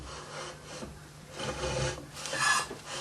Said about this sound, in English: Just scrape across the wood